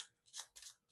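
A deck of cards being shuffled for a Marvel Champions card game, a few quick soft riffling bursts close by and faint, lasting about a second.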